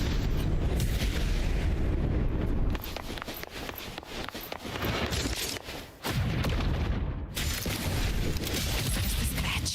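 Video game gunfire and combat effects in Wuthering Waves, a dense loud stream of sharp shots and booming impacts, with one brief drop in intensity midway before the barrage resumes.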